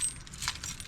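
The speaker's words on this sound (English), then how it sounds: "Let me put my collection of keys back on my collar here" A collection of metal keys jangling briefly as they are clipped back onto a collar, a quick faint metallic rattle heard close up.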